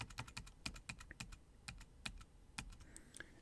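Computer keyboard keys tapped to undo a stroke during a Sketchbook Pro drawing session, heard as a quick, irregular run of crisp, close clicks and taps with no talking.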